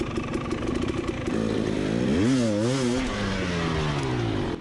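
A hard enduro dirt bike engine revs hard and loud as a rider struggles up a tire pyramid. Rising and falling throttle sweeps sit over a constant engine drone and crowd-race noise.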